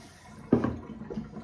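Water poured out through a Tupperware colander holding freshly cooked spätzle, a short splashing gush that starts abruptly and then trails off into softer trickling close by.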